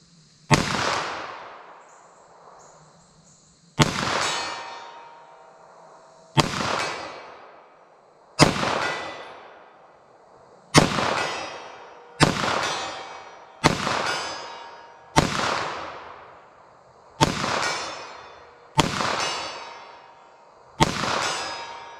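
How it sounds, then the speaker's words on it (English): Ten sharp shots from a full-size 9mm pistol fired at a target 75 yards away, spaced about two seconds apart, each loud crack ringing out with a decaying echo, no talking. "Let's pull out our 9mm full size,"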